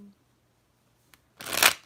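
A deck of oracle cards is shuffled: a faint single tap, then a short, loud papery riffle burst toward the end, close by.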